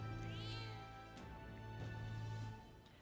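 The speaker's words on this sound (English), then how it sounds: "The cat tends to himself quietly, utterly impartial to us." A cat in Metaphor: ReFantazio gives a single soft meow near the start, over a sustained musical drone and ambient game soundtrack, quiet and brief.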